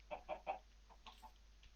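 A chicken in a modded Minecraft game clucks in three close, quick bursts, followed by a few softer, scattered clucks. The sound is quiet and stands alone, with no talking over it.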